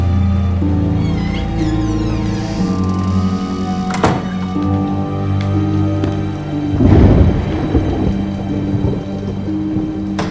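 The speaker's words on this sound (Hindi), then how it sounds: "भूत नहीं, तूफान आ रहा है।" A thunderstorm rumbles loud and close, with steady rain underneath, a sharp crack around the middle and a heavy roll of thunder later, laid under a dramatic music bed.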